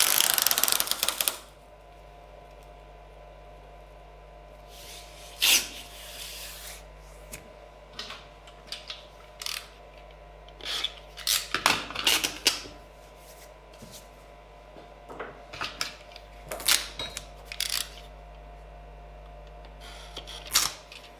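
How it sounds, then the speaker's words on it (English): Tape being stuck down, cut and burnished onto a flat machined platter in a workshop. Scattered crisp crackles, snips and rubbing scrapes come in irregular clusters over a steady low hum, close and quiet, with no talking. "Cutting up the excess and then just burnishing the tape down to stick really well"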